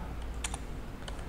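Keys tapped on a computer keyboard while entering CNC lathe code in simulation software, a few quiet separate clicks in a short burst over a low background hum.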